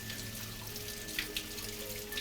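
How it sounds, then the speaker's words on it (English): Running water flows steadily from a tap into a sink, a soft, continuous wash with a few faint splashes and drips, calm and alone. "Just listen to the water"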